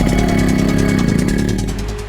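A motorcycle engine runs steadily and loud up close, its low mid-range drone holding even throughout, no voices over it.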